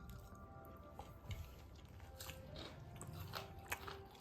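Crispy fried chicken pakora is bitten and chewed close up with soft crunches and wet, squishy mastication, faint and irregular, with a sharper bite partway through.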